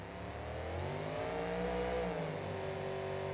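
A car in the driving game CRD revs and accelerates, its engine tone rising and falling in steady sweeping pitches, loud and continuous with no voices.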